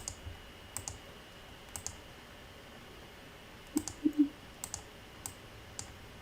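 Computer mouse clicks while letters along an arch are rotated in design software: sparse, quiet single and paired clicks scattered across a soft background hum, with a small cluster near the middle.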